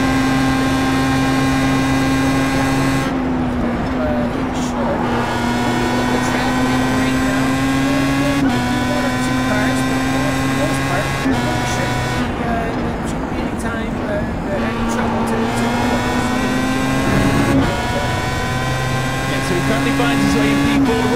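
Race car engines whine and rev as cars enter the pit lane for fuel stops, with tonal engine pitches rising and shifting over about twenty seconds, loud and continuous, and commentary running over them.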